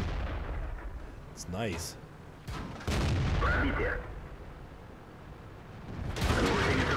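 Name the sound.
tank gun firing in World of Tanks video game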